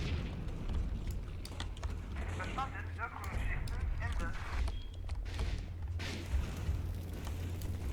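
A tank taking a shell hit in the tank combat game Combat Mission Red Thunder: dull booms and impact crunches mixed with battlefield rumble, with someone talking over the action.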